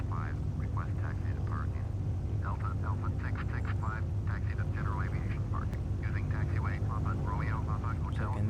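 A small propeller aircraft taxis on the ground toward parking after landing, its engine a steady loud drone with low throbbing hum, while a person talks continuously over it in the cockpit.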